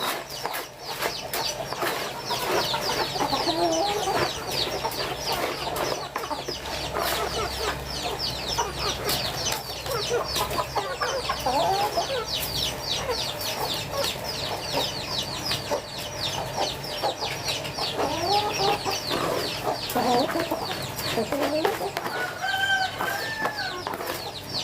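Chickens cluck continuously at a home poultry farm, with a rooster crowing now and then over the flock's busy, overlapping chatter, along with occasional wing flaps.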